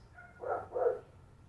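Dog barking twice in the horror video game I Saw Black Clouds, a pair of muffled, mid-distance barks close together with no talking.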